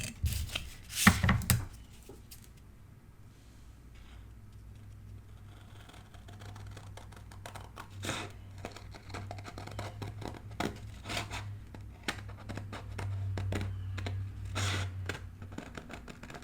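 Scissors cutting a paper mat for a handmade mini album, close and quiet, with short crisp snips and rustling paper, plus a louder handling clatter near the start.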